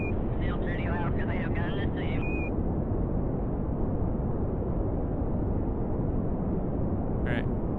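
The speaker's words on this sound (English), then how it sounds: "Let's see if we can get out of here with just the solid rocket booster." Solid rocket booster launch in Kerbal Space Program, a steady loud broadband roar of thrust filling the whole clip, with a brief voice near the start over it.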